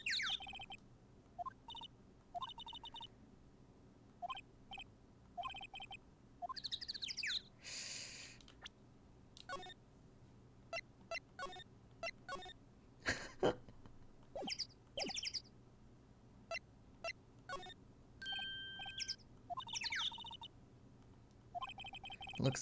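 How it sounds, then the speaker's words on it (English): Birds chirp outdoors in the Phoenix Wright: Ace Attorney video game: scattered short, high tweets and calls come in bursts over a quiet, steady background. "Wait, why are there suddenly, like, birds chirping?"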